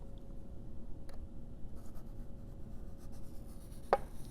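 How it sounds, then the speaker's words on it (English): Faint, continuous scratch of a sharp pencil tracing around a heart-shaped tin on paper, steady and close with a small tap near the end. "trace all around the outside"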